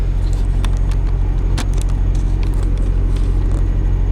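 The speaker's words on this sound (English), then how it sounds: "this is one of those truck stops that's always busy" Steady loud rumble of idling and passing trucks at a busy Pilot truck stop in Greenfield, Indiana, a constant engine drone with faint clicks and clatter, no talking.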